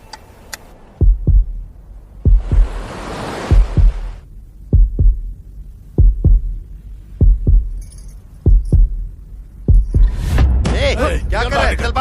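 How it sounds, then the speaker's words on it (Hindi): A dramatic heartbeat effect in a Hindi-dubbed South Indian action romance film thumps in deep paired beats at a steady rhythm, loud and close, with swelling whooshes and a bright shimmering swell near the end. "मेरा दिल और तेजी से धड़कने लगा।"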